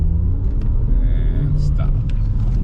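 A car accelerates to about 20 mph during a driving test in Florida, a short burst of low engine rumble and road noise building steadily inside the cabin.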